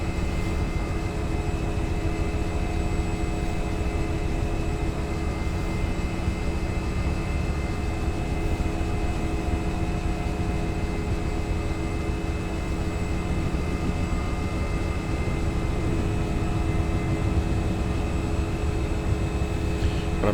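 A Nimbus Huey UH-1 model helicopter flying, giving a steady, continuous motor whine and rotor drone at constant loudness with no talk.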